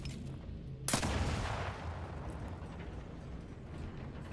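A kinetic biomass pistol fires in a video game: one sharp, loud shot bursts in after a short quiet stretch, then a long rumbling decay fades across the remaining seconds.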